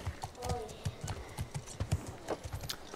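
A horse's hooves clip-clop in a steady, close rhythm of repeated thuds, with a faint voice in the background.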